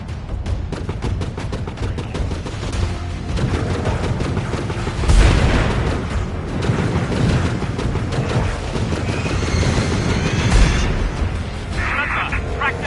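Warbird gunfire in The Falconeer aerial combat game: dense, continuous bursts of shots and booms over a busy battle din, loud and close throughout.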